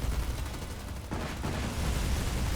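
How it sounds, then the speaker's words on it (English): Giant cannons in the Sins of a Solar Empire 2 space strategy game pound a missile frigate, a dense rumbling barrage of booming shots with a sharp burst near the middle, loud and continuous throughout. "Look at these giant cannons just laying into this poor ship."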